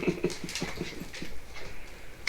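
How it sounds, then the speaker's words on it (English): A dog named Luke in a video game whimpers and whines in a run of short, high, pleading yelps with soft panting between them, fairly close and moderately quiet. "But he's a good doggy."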